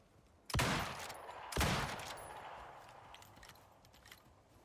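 Two sharp, loud gunshots ring out in the survival game Icarus, spaced about a second apart, each followed by a long echoing tail that fades into quiet ambience.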